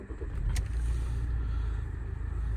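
A 2011 Toyota RAV4 2.2 D-CAT automatic starts up, settling into a deep, steady engine rumble heard close by from start to finish, with no talking.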